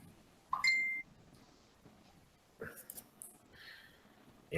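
A phone notification sounds with a short, bright tonal beep near the start. Soft breathing and small clinks follow in a quiet room.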